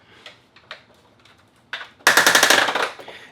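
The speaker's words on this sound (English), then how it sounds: "those ratchets are indeed very, very loud" Sharp clicking bursts from the ratchet joints of a Siege Titans Omega Supreme toy being transformed: a few scattered clicks, then a loud rapid train of ratcheting clicks lasting about a second, close up.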